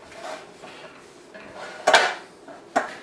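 Metal cake pans for a chocolate cake are moved around a kitchen, giving light scrapes followed by two sharp clanks near the mic.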